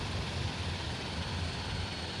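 Twin turboprop engines of a Super King Air hold a steady low idle in Microsoft Flight Simulator, a continuous even whine and rumble with no pauses.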